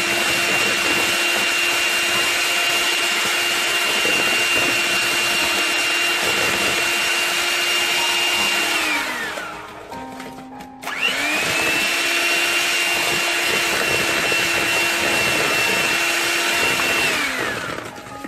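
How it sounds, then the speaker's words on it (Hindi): Electric hand beater whirring steadily as it mixes flour (maida) into cake rusk batter, a loud continuous motor whine that briefly slows and drops out near the middle before starting up again. "मैं आसानी के लिए सारी चीज़ें हैंड बीटर से मिक्स कर रही हूँ"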